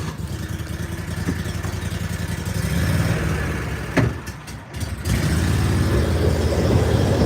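A vehicle engine runs at a steady mid-pitched drone while driving out to drop off hay, its note shifting slightly as it goes, with a brief knock and a short dip partway through.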